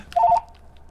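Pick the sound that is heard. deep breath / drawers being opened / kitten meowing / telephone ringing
telephone ringing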